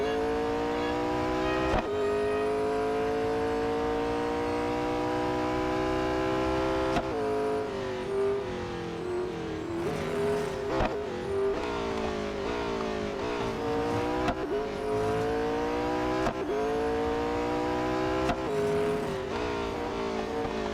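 Bugatti engine in the Real Racing 3 racing game, a loud continuous whine that climbs steadily through the revs, drops sharply at each gear shift and climbs again, repeating throughout with no talking.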